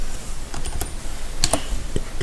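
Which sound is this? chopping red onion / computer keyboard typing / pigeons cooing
computer keyboard typing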